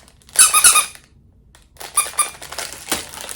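A squeaky dog toy squeaks in two bursts of rapid, high, rubbery squeals, close and loud, with a short quiet gap between them.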